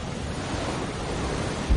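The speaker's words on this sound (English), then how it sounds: "The hurricane's sheer wind power drives waves from far out at sea" Hurricane winds drive ocean waves ashore in a continuous, loud roar of surf, with wind rushing and buffeting over the churning water and no voices.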